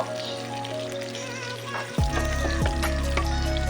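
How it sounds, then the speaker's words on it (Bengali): Chopped onion drops into hot mustard oil in a wok, and a loud, steady sizzle erupts about halfway through over a low background hum, continuing without talk. "পেঁয়াজটা একটু ভেজে নেব"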